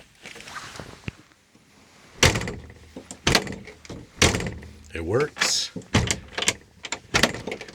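Repaired car door lock worked open and shut, several sharp latching clunks and slams spaced out among rustling handling noises, with a person speaking briefly.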